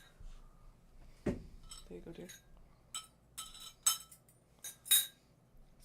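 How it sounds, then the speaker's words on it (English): Dishes and cutlery being washed and handed over in a home, with sharp clinks of glass, bowls and silverware at irregular intervals over a quiet background while a voice speaks briefly. "Wash dishes now."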